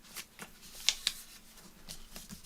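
Paper being folded over on itself for a junk journal craft, with soft crinkles and a couple of crisp creasing snaps, close and quiet.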